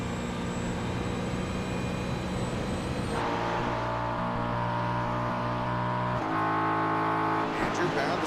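Porsche and Ford GT race cars in a sim racing game at VIR, their engines holding a high, steady whine that shifts pitch abruptly as they gear change, with a voice commentating over them.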